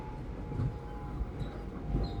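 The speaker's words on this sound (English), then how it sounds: "as the train carries you through the winter forest, under the stars" Steady low rumble of a train rolling through a snowy winter forest at night, a continuous muffled rail drone with faint higher squeals drifting in and out, no voices.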